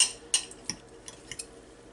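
A metal fork jabs and taps a cooked ribeye steak on a plate, a few light separate clinks and ticks, close and faint.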